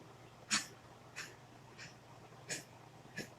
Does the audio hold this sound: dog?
yes